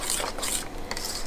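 Granola ingredients being mixed by hand in a bowl, a continuous scraping, rubbing stir at close range with brief pauses between strokes, no voices.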